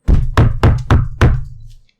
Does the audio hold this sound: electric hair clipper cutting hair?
no